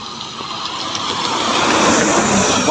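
A Sempati Star bus passes close by on the road, its engine roar and tyre rush swelling into a loud, steady drive-by with no talk.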